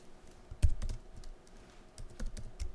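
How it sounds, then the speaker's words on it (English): Close computer keyboard typing while setting up a button in Xamarin iOS code, a few sparse clacks followed by short bursts of quick keystrokes in a quiet room. "I'm just going to type button"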